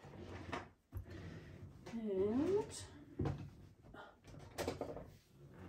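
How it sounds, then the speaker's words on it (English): A desk drawer slides open and a paint pen is pulled out, giving a few short knocks and scrapes spread across the moment while a person talks over them. "Let me just grab it out of my drawer."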